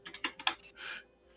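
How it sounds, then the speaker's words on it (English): Computer keyboard clattering in the background of a tabletop Dungeons & Dragons game stream: a quick run of five or six sharp key taps, then a softer, longer burst of keystrokes, fairly quiet and with no talk. "Constantine's clattering on the keyboard in the background again"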